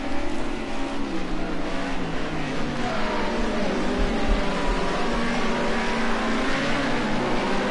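Group A touring race cars at full throttle around Watkins Glen, a steady loud engine roar that swells and fades as cars pass close, continuous throughout with no break.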